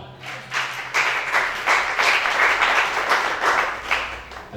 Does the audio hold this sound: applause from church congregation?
yes